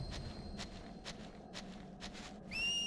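A character's short whistle rises near the end of a Final Fantasy X-2 cutscene, after a stretch of soft, repeated footstep-like thumps over a low game background.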